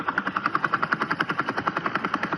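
Two motorsport commentators imitate a helicopter with their voices, a rapid, even chopping pulse of mouth sounds repeating at a steady rhythm, close and clear with no other talk.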